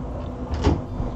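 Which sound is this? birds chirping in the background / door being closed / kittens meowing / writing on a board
door being closed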